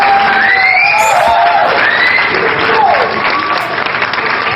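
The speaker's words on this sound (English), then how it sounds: "That deserves some applause." Canned applause from a handheld noise toy plays loudly and up close, clapping mixed with crowd cheers and whoops, with a voice briefly audible over it.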